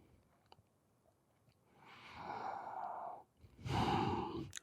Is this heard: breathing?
yes